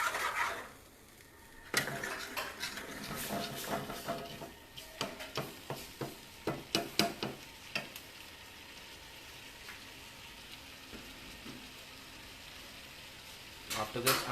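Water stirred and blended into a home-cooked dish in a pot, with scraping and clinking of a spoon against cookware over a soft sizzle, with bursts of activity between quieter stretches.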